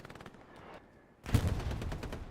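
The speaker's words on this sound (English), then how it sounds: "Immediately catching some crossfire from the machine guns." Machine-gun crossfire in the war game Hell Let Loose: faint bursts of distant automatic fire, then a louder, closer rattling barrage across an open field, with no voices.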